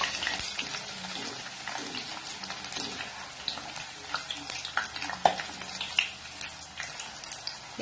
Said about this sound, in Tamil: அதையும் எண்ணெயில போட்டு லைட்டா பொரிச்சு எடுத்துக்கலாம்.